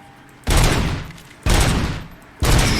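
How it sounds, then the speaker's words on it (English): Three loud bursts of gunfire from RoboCop: Rogue City, each a sharp close blast that tails off over about a second before the next. "I can't tell if you get more points for shooting him in the face or not"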